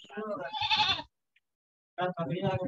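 A goat bleats twice nearby in loud, wavering cries, the first lasting about a second and the second returning after a short silence.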